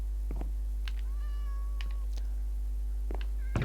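A cat in the video game Minecraft meows several times, short separate calls over a steady low hum, with a few soft clicks.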